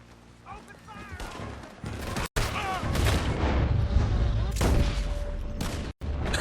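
A shootout in the video game Red Dead Redemption 2, with dense, loud volleys of gunfire and booming shots that overlap continuously, mixed with shouting voices and game sounds.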